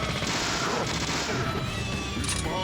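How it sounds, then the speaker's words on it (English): Rapid bursts of gunfire from the Deadly Premonition video game, fired while closing in on the Raincoat Killer, dense and continuous over a busy backdrop of game sound effects and music. "Let's try to get up close and shoot him again."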